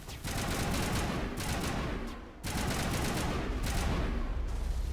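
Sustained automatic gunfire from Mass Effect Legendary Edition rattles in two long bursts with a brief break between, loud and near, with no voices.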